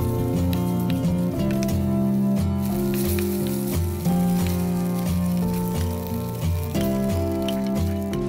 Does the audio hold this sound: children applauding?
no